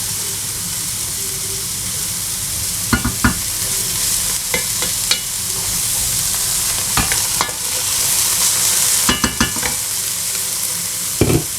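Aubergines and mixed vegetables for chakchouka fry in a pan with a steady close sizzle, while a spoon scrapes and stirs in scattered clacks and knocks over it.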